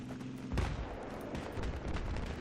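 Battlefield 3 multiplayer combat with grenades and gunfire: dense, continuous rattling shots and bursts pile up over a low rumble, with sharper blasts standing out now and then.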